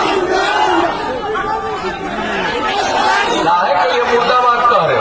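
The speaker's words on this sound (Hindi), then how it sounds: "मुर्दाबाद तक के नारे लगा रहे हैं।" Crowd at a Bihar election political rally shouting slogans, a dense continuous roar of many voices chanting and chattering together, loud and steady throughout.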